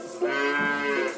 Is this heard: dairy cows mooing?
yes